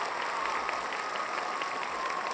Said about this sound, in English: I'm gonna do the claps.